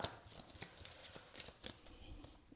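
Cards from an Osho tarot deck being shuffled, a quiet run of soft, rapid riffling clicks and flicks in an irregular rhythm, close by in a hushed room with no talking.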